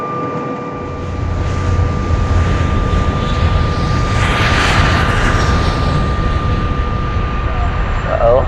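Aircraft engine noise fills an airport, a loud steady roar that swells and fades over several seconds with a constant tonal hum beneath. Voices are faintly present.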